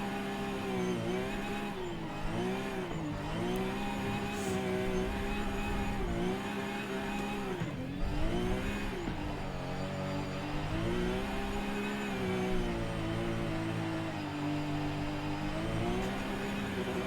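A car engine in the Forza racing game hums and revs steadily through a corner, its pitch rising and falling in smooth waves, loud and continuous with a faint whir underneath.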